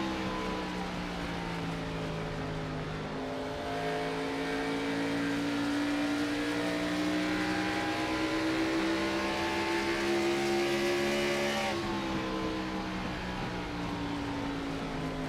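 A race car engine heard from on board during a Saturday Night Thunder Dash 4 Cash 100 race, holding a steady high-revving drone that climbs slowly, with other cars' engines around it and a sharp drop in pitch near the end. No voices.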